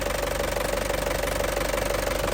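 Up close, the warm engine of a 2007 Isuzu Panther Grand Touring ticks over at idle, a continuous clattering diesel knock pulsing evenly and loudly with nothing else over it.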